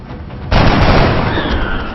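Soldiers firing guns at an alien in the video game XCOM: Enemy Unknown, a loud burst of gunfire that starts abruptly and keeps rumbling close up for over a second with no talk.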